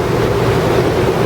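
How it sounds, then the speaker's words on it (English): A 44-foot power catamaran pushes through the water at about 10 knots against the current in Sisters Creek, Florida, a steady wash of hull water and wind over a low engine hum. "I'm on a 44-foot power catamaran, and we're making about 10 knots against the current in Sisters Creek, Florida"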